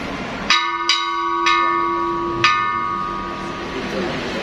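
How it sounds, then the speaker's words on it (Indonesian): An old bell at the STOVIA museum is struck four times, each strike a sharp metallic clang with a long ringing tone that lingers between hits, close by in an indoor room with faint background voices. "Bapak Ibu ada yang mau coba bel ini?"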